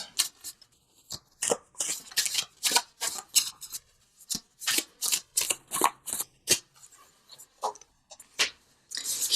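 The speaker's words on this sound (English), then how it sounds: "let's pull a visionary card from Noah Nafu, just for some added guidance" Tarot cards are shuffled up close in a fast, rhythmic series of papery riffles and flicks, with short pauses between bursts and no talking.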